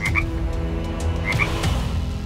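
A frog croaks twice in short doubled calls, close and clear, over a low steady background hum.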